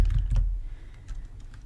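Keys clack on a computer keyboard while an Excel formula is entered, a few soft close taps in a short irregular burst, a louder cluster at the start and then scattered lighter strokes.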